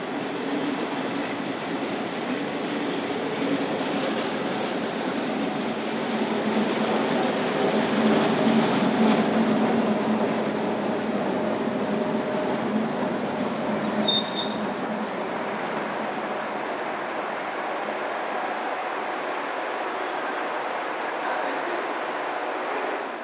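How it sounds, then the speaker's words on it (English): A Class 560 Subseries 4 electric multiple unit rolls into Domodossola station on a service from Brig, producing a steady, loud rumble of wheels and motors with a faint brief squeal near the end. "This Class 560 Subseries 4 unit enters the station on a working from Brig."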